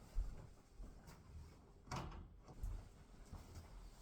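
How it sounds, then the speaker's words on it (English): A door swings shut with a soft thud in a quiet indoor space, followed by a few lighter knocks and rattles as it settles. "Get this door closed."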